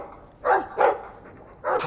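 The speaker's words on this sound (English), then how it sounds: "Let's use our inside barks." Dog in a Dragon Age game barking three times, loud and close, two quick woofs and then a third after a short pause.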